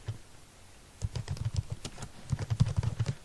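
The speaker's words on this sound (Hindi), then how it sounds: "मैं एक पैथन का कोड लिख देता हूँ।" Quick bursts of clicking keys on a computer keyboard as Python code is typed, soft and close, starting after a short pause and tapping in uneven rapid runs.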